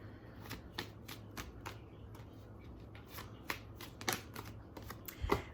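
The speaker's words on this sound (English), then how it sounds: "let's pull a couple romance angel cards" Romance angel oracle cards being shuffled and pulled, a run of quick crisp card slaps and riffles at an uneven rhythm, close and fairly quiet.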